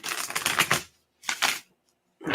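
A deck of playing cards shuffled by hand in two bursts, a long riffling flutter followed by a short one after a pause, with a third starting at the end, close and crisp with no talk.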